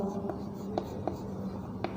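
Pen scratching on paper while a maths solution is written out, faint repeated strokes and taps heard under a quiet voice.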